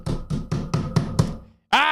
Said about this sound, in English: I banged on the front door.